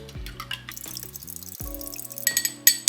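Water poured into a glass to dissolve a Russian powdered drink mix, a run of close liquid splashes and drips with light glassy clinks, growing brighter and louder toward the end.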